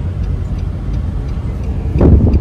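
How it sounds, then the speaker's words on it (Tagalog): Road traffic in Parañaque, Philippines, a low rumbling wash of car engines with faint ticking, swelling louder near the end as a vehicle passes close by. "gaya ng dati, traffic pa rin dito"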